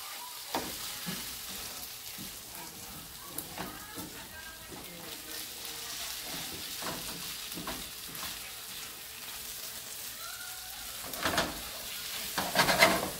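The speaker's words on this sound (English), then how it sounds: "Mix it around." Pasta with chicken and artichokes, lightly covered in cheese, being stirred in a pan, with a soft steady sizzle, scattered scrapes and clinks throughout, and louder scraping near the end.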